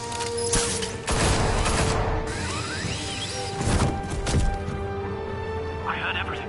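Bursts of gunfire crack out in the Batman Telltale video game, several sharp broadband volleys over a steady rumble, with voices talking through the action.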